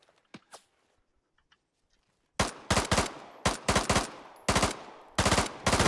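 Machine gun fire in the military video game Antistasi (Arma), set in Takistan: after a quiet stretch with a couple of faint shots, loud repeated bursts of automatic fire crack out in rapid rhythmic volleys until the end.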